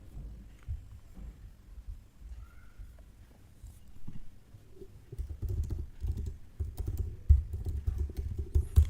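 Irregular clicking keystrokes on a computer keyboard while code is typed, sparse and quiet at first, then growing into faster, louder bursts of taps.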